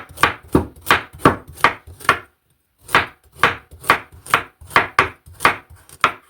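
A sharp knife chops carrots on a board in a quick, steady rhythm of crisp, close strikes, with one short pause partway through before the chopping resumes.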